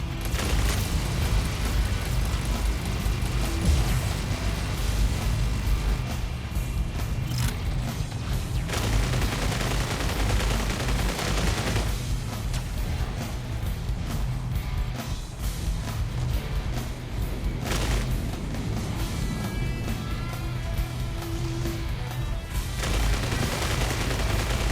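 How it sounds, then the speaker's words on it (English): Sustained gunfire from a video game firefight: a dense stream of overlapping shots and booms that runs nearly the whole time, with brief lulls in between. "Quit shooting at us when we're trying to shoot you."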